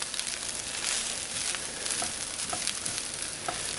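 Fried rice stirred and tossed in a hot pan, a steady close sizzle and crackle with scraping stir strokes throughout, no voices.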